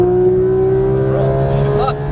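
Porsche 911 GT3 of the 991 generation on track, its engine note droning loud and steady at full throttle with a slowly rising pitch, heard from inside the car.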